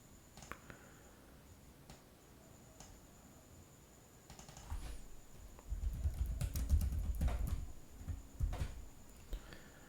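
Clicking of a computer keyboard while a document is typed, sparse light taps that turn into a denser, louder burst of keystrokes partway through, with no talk.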